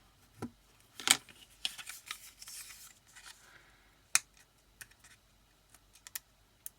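Scissors snipping through a sheet of acetate, a few sharp isolated cuts separated by quiet pauses, close and fairly soft.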